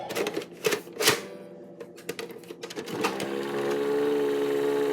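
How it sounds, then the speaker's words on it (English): A VHS/Beta 2-way tape rewinder starts with a few clunky clicks and taps, then spins up into a steady mechanical whir that grows louder and more even toward the end. "now I'm going to see if it works on fast forwarding and rewinding"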